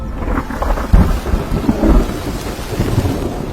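Heavy rain pours steadily in a cartoon story while low rumbles of thunder roll beneath it, a loud, dense wash of rainfall with a deeper thunder swell near the middle and no voices.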